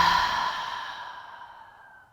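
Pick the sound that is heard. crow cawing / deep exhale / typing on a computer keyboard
deep exhale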